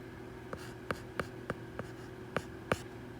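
Pen or marker strokes tap and scratch out a math explanation, about seven short, faint, spaced strokes over a low steady hum.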